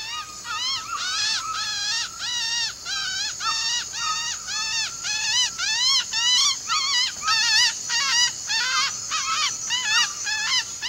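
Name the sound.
hunter imitating a bird call to lure an aracari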